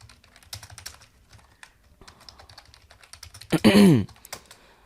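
Computer keyboard keys tapped while entering a password, a run of quick light clicks with a louder burst near the end, faint background sound around the typing.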